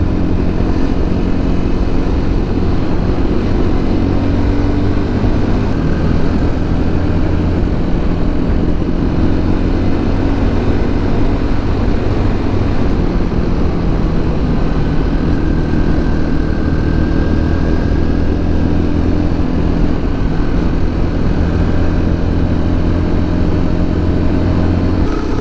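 A car drives a winding road from Bolu toward the lakes in Turkey, its engine and road noise a constant loud drone for the whole stretch, with no talk.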